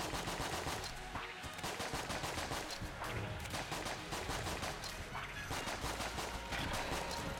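Dense, rapid gunfire from the bullet-hell game Enter the Gungeon, played in Rainbow Mode, rattles on without a break at steady high loudness, with crash-like bursts mixed in.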